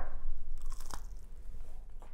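Crunchy bites into hot-sauce-coated chicken, a couple of sharp close crunches followed by chewing, loud and near with no talking.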